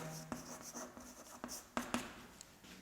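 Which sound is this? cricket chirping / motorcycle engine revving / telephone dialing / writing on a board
writing on a board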